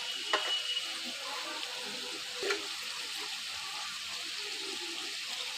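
Marinated food fries in a pan with red chili powder, giving a steady, close hiss of sizzling oil broken by a couple of brief clinks of stirring, with no speech.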